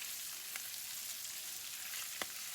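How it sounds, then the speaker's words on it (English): Chopped sausages fry in a hot pan that is also used for shrimp, sausage and vegetable fried rice, giving a steady, even sizzle throughout with a couple of brief sharper crackles and no talking. "I added our chopped sausages and cook it until well done"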